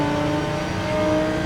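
A steady, mid-pitched engine drone from an Audi GT3 race car, mid-engined, in Gran Turismo 7, holding a constant tone with a faint whir throughout and no talk over it.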